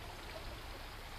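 Kerosene poured steadily into a hurricane lantern's fuel tank, a soft continuous trickling wash, faint and uninterrupted.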